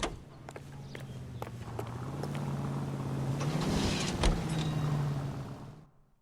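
Car engine in the video game L.A. Noire, a steady low hum that builds slightly and fades near the end, with faint clicks and taps over it and no talk.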